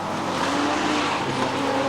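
Modified production race cars run nose to tail around a night circuit, their engines a loud, steady roar, with possible tyre noise and no pause.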